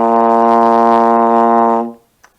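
One steady low B flat on trombone, slide in first position, rings full and even for nearly two seconds, then stops cleanly, followed by a faint small noise.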